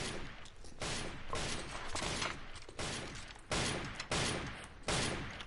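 Gunfire in a Devil May Cry 3 cutscene comes in repeated loud bursts of rapid shots, about seven volleys separated by short pauses.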